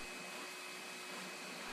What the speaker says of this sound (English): that's still the cordless Henry